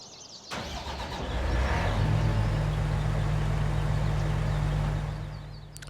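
A harvester engine in Farming Simulator 19 starts up close by, a sharp crank giving way to a loud, steady low diesel drone that holds for several seconds before easing off.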